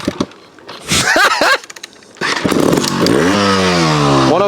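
A TRS One RR 250 trials motorcycle engine revs hard in sharp bursts, rising and falling in pitch, then settles into a loud sustained high rev close by.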